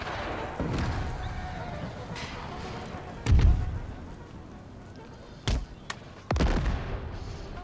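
Battlefield gunfire from a Sweden-versus-Prussia campaign in Empire: Total War, with a few heavy booming reports standing out over a steady din of distant battle noise and murmuring voices.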